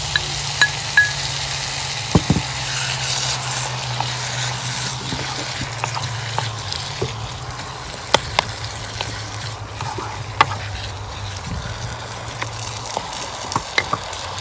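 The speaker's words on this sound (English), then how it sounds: "I'm adding 1 tin of chopped tomatoes." Chopped tomatoes from a tin sizzle steadily in a hot frying pan, a continuous close hiss broken by a few sharp clatters and stirring knocks.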